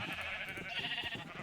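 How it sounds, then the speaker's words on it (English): A Minecraft sheep bleats in a short, wavering call, fairly faint and alone against a steady background hum. "One day, sheep, you will all be out of here."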